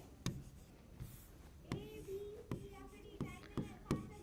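Chalk or marker strokes on a board in a classroom chemistry lesson: sharp taps and short scratchy strokes, with one squeaky drag among them, close and clear against a faint room hum.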